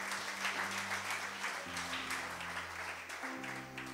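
A church congregation applauding, a steady wash of clapping that carries on evenly throughout, fairly quiet and diffuse, with sustained music tones beneath it.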